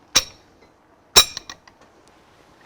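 Wrench breaking loose the bolts of a Renault Kardian HR10 engine one by one, with two sharp metallic clinks followed by a few faint ticks in a quiet room.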